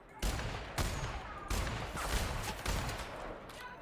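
Several loud, sharp sniper rifle gunshots ring out at roughly half-second to one-second intervals in The Outer Worlds, each a broad blast trailing into reverberant tail, with no talking.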